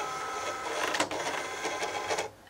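A Cricut Explore cutting machine loads its cutting mat with a steady whirring motor hum and a few mechanical clicks, ending abruptly as the feed stops.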